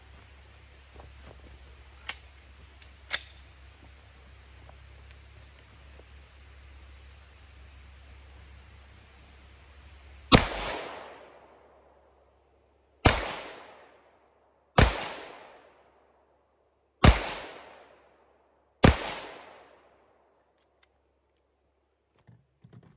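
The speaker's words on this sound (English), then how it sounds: "we'll do 5 shots downrange like we normally do" Five sharp pistol shots from a Shadow Systems MR920 War Poet Edition at an outdoor range, spaced a couple of seconds apart, each loud and close with a ringing decay, after a stretch of quiet background hum and a couple of small clicks.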